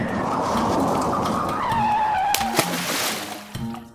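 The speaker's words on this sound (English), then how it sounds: "Why is the car starting on its own?" A car in the Roblox game Brookhaven starts by itself and pulls away, its engine revving into a rising whine with a skidding tire squeal, then a few sharp knocks as it goes.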